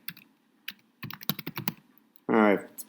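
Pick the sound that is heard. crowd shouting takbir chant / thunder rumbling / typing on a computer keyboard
typing on a computer keyboard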